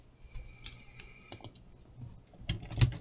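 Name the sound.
typing on a computer keyboard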